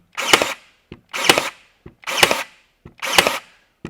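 A DeWALT DCN623 20V cordless 23-gauge pin nailer fires four times at a steady pace, each sharp, close snap followed by a small mechanical click as it resets.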